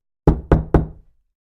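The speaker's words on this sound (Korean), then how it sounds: "또다시 문을 두드리는 소리가 들려왔습니다." Three firm knocks on a door at a steady, evenly spaced rhythm, close and distinct, each with a short resonant tail, heard alone with no voices.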